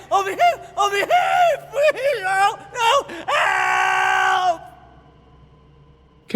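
A man screams and pleads with strained, wailing cries as he is dragged out of a cell during a Call of Cthulhu tabletop game, several loud bursts followed by a long sustained scream that cuts off into quiet.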